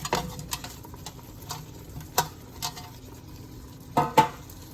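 Soft, baked potatoes coated in bacon fat go into a cooking pot, making scattered light clinks, taps and soft thuds from utensil and pot, with sharper knocks near the end and no talk.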